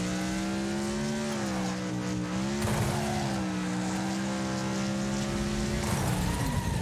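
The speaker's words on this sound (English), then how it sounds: "We just completely smashed our car." Engines drone and tires squeal in Wreckfest racing, with a continuous harmonic motor whine shifting pitch as cars grind and skid along narrow tracks, loud and steady without a clear separate crash.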